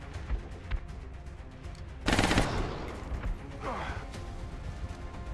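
Sharp bursts of automatic fire in XCOM: Enemy Unknown, with a loud crash of shots mid-clip over steady game ambience and a voice talking throughout.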